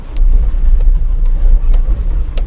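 Suzuki Jimny 4x4 driving off road on a trail, giving a steady low engine rumble close by with a few brief knocks and rattles, and no talking.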